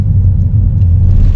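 A truck passes as a steady, heavy low-frequency rumble that stays loud and close throughout, with no voices.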